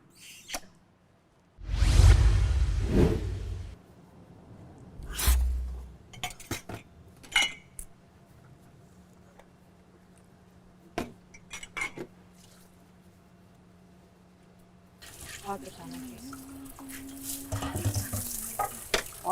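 Dishes, pots and cutlery clink and clatter in scattered bursts as they are handled and set down in a home kitchen, with a brief sizzle-like rush and a low hum underneath.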